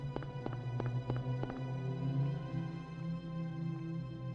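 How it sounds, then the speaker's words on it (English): Footsteps of Harry running forward in the Silent Hill video game, a quick series of hard, distinct steps early on that fade into a low ambient hum. "Run forward, hear footsteps."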